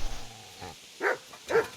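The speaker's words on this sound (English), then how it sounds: "don't hit the dog." A dog in the medieval role-playing game Kingdom Come: Deliverance gives a couple of short, sharp barks and yelps after a low voice, each bark close and loud with brief gaps between.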